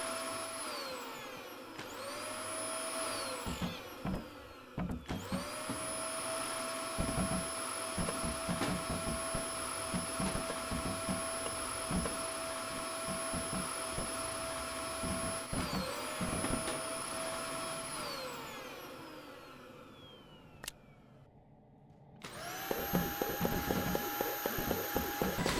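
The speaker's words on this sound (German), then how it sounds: "Für das Spiel mit dem Staubsauger" A vacuum cleaner in the video game Kill It With Fire whirs steadily for most of the stretch, with a motor tone that rises and falls in pitch as it spins up and down, drops out briefly, then surges back loud.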